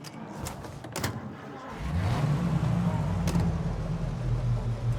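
A car in Mafia Definitive Edition, a few clicks and thumps like a door or handling noises, then the engine starts up and hums steadily as it pulls away, fairly close.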